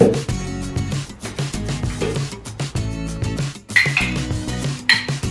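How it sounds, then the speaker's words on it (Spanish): A spoon scrapes and clinks against a glass blender jar in short bursts while scooping Nutella into it, with steady background music playing throughout. "La vamos a echar dentro de nuestro vaso para batidora."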